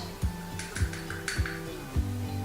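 Hard plastic measuring spoons knock and clink together as they are handled while measuring clay for a face mask, giving several sharp close taps spaced through the moment.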